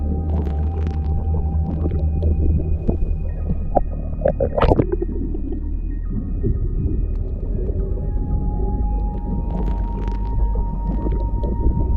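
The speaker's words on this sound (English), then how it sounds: "This person went diving and was having fun swimming with the sea lions until one of them playfully attacked." Sea lion swimming underwater close to a diver: low rumbling water noise and steady hum fill the scene, with a burst of higher bubbly, vocal-like sounds in the middle and a fainter flurry near the end.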